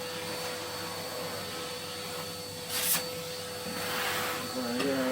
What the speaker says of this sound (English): What I'm going to do is just quickly hoover this top out.